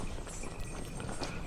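Hoofbeats of a caravan's horses, including a chestnut mare, in the video game 80 Days, heard as a steady clip-clop, faint and continuous, with no talking.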